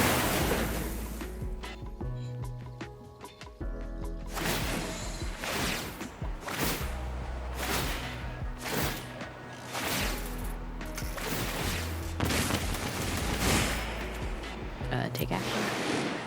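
A board wipe spell in the MTG Arena card game erupts as a series of crashing, whooshing digital effects with layered tonal chimes, loud and up front, under a speaking voice.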